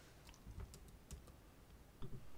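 A computer keyboard being typed on in scattered, uneven keystrokes, some louder clacks standing out over a quiet background, no voices.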